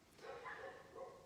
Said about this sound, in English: The neighbor's dogs are right on cue. They started barking as soon as I pressed the button to go live.